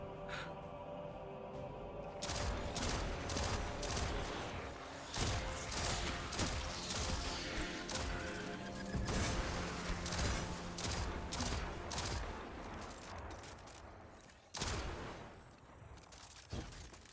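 Explosions from destroyed ether tank barrels on a rooftop in Destiny 2, mixed with rapid bursts of video-game gunfire, loud and dense for most of the stretch with sharp blasts near the end.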